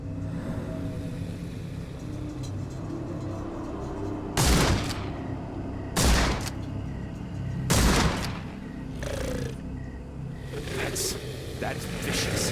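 Rifle shots fired in a swamp in the video game Sherlock Holmes: The Awakened, three loud separate cracks spaced about two seconds apart over a low ambient rumble, with fainter sounds after them.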